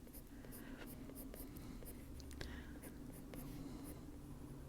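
Soft, steady scratching of a pencil drawing hair strands on paper, close and quiet, in short repeated strokes with no talk.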